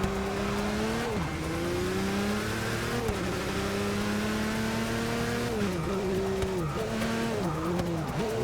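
A race car in Forza Motorsport 6 with a steady loud engine drone whose pitch dips and climbs as the tires squeal and skid through a spin, sustained and close throughout.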